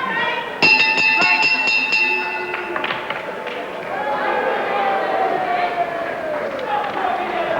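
A ringside bell ends a round in a wrestling bout between Ray Steele and Terry Rudge, clanging sharply and ringing out for about two seconds before fading under a commentator's voice and crowd murmur.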